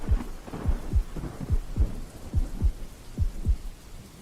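Heavy rain pours steadily through a thunderstorm, with deep rumbling thuds rolling in at a loose, repeating rhythm, close and fairly loud, and no voices.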